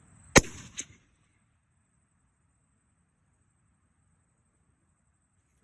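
A single sharp crack from a Tikka T3X .308 rifle with a 16-inch barrel is followed by a short echo, then near silence.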